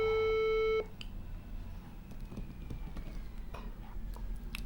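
A telephone line tone sounds steadily while a call is placed to brother Landry, then cuts off abruptly into a soft, noisy hiss with faint clicks.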